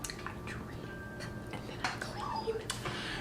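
An Instant Pot being pulled out and handled, light clinks and knocks of metal and cookware at an uneven pace, fairly close against a low background hum.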